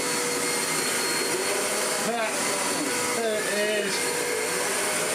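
A Hoover DustManager DM4450 vacuum cleaner, restored, runs with a steady loud motor roar throughout, while a voice speaks briefly in the middle over the drone.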